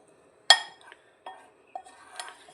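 A spoon clinks against a bowl while mixing rice flour, black pepper powder, Kashmiri chilli and salt into a marinade, with a few sharp separate taps and scrapes, close and fairly quiet.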